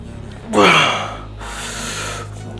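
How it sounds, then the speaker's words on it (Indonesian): A lifter catches their breath between bench press sets with two heavy, close exhalations. The first is a sharp gasp and the second is a longer, steady breath out. "Tapi nafas dulu."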